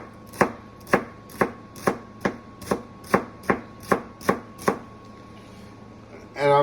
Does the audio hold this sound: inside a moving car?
no